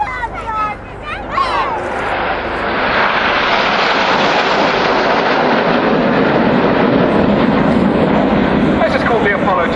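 Red Arrows jets at an RAF Waddington air show fly past in tight Apollo formation, a loud continuous roar of jet engines swelling and holding steady, with a commentator and crowd voices underneath.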